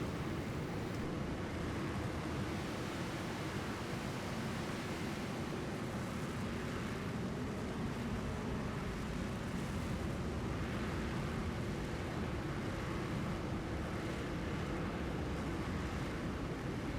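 A Eurofighter jet taking off at full throttle in the FSX flight simulator, a steady, dense roar of engine noise with no break, held at constant loudness throughout.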